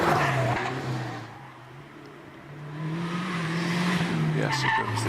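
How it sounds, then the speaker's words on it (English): A 2-litre turbocharged Vauxhall VX220 races up the Prescott hillclimb, its engine droning loud and sustained with the pitch sagging then climbing again as it pulls through the course, while a commentator talks over it. "As we continue to follow David Meek in that 2-litre turbocharged Vauxhall."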